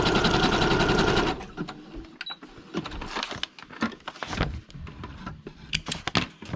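A sewing machine stitches through paper in quick bursts, first a long continuous run and then shorter start-stop rattles and clicks as the stitch settings are changed, close and fairly loud.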